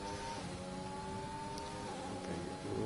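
A Ferrari race car pulls out of the pits in a racing video game, its engine a steady, continuous drone with shifting harmonic tones and a slight rise in loudness near the end, with no voices.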